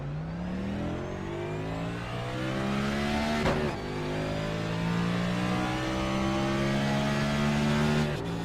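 A race car engine in a racing video game holds a steady drone in 4th gear, with a brief sharp click midway and slight rises in pitch as the car drives on, with no talk.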